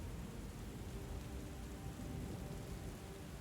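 Steady rain and thunderstorm ambience in a video game, with dense continuous rainfall and a low rumbling undertone at a constant moderate level.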